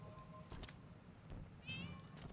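A pet cat named Render gives a couple of short, quiet meows close by. Light room noise sits under them.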